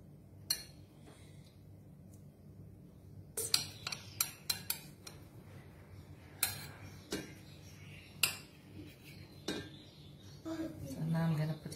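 Prawns and utensils being added into a biryani pot layered with rice and lentils, heard as scattered sharp metallic clinks and taps against the pot amid quiet kitchen handling.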